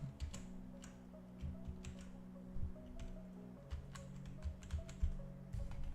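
Keys tapped on a computer keyboard with a faulty Control key, scattered irregular clicks at close range over a steady low hum, with no talking.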